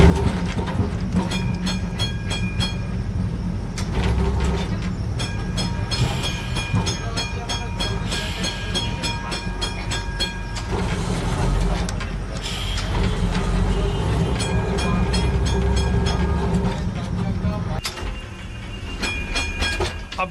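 A tram train rumbles along its tracks in a continuous loud, low drone with rattling carriage noise and rhythmic metallic clatter, heard from on board.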